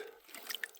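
Water drips and trickles faintly while a handful of creek mud is rinsed off, a few soft, close patters with no speech.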